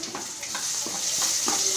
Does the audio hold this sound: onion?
yes